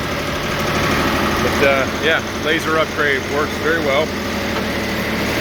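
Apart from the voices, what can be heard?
diesel sawmill engine running with vibration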